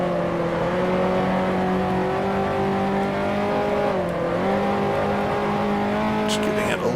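A 1955 Formula One car engine from the racing game Grand Prix Legends drones at steady revs, its pitch dipping briefly under a throttle lift before recovering, while a voice talks over it throughout.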